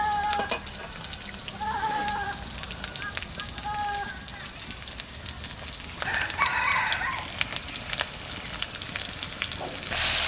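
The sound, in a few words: ginger paste, chilli, pepper, cumin and coriander frying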